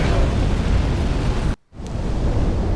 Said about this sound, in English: those dragons wake up and basically annihilate anything on the bridge with their dragon breath attack